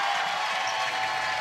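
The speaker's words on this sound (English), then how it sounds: "the crowd coming to their feet as their Storm will advance to 2-0 on the series" A basketball crowd roars and applauds in a sustained, dense wash of cheering as the home team nears a playoff series win.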